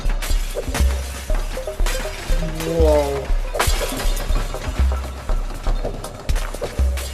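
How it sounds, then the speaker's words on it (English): Thin glass bars shattering in the VR game Smash Hit VR, a run of sharp crashes and tinkling breaks over a regular thumping beat, with a brief exclaiming voice. "You just smash a really thin glass bar"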